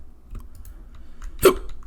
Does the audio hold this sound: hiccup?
yes